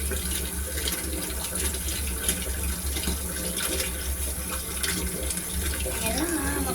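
Water running steadily from a tap to fill a bath, a continuous close rushing splash with a voice speaking faintly under it.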